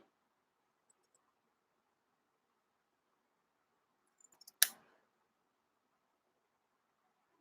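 A single decisive snip of scissors cutting material into a crescent shape, close and crisp, with a few small handling ticks just before and quiet otherwise.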